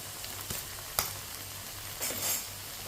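Mustard-greens saag fries over high heat in a pan while a spoon stirs it, a steady sizzle broken by several sharp spoon scrapes and clinks, with no voices.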